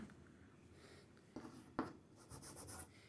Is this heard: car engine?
no